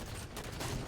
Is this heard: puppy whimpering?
no